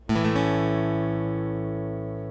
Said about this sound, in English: We'll strum from the A string down to the B string.